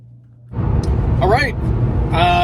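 Car interior hum as a vehicle drives off in the early morning, a steady low engine and road rumble beneath someone talking.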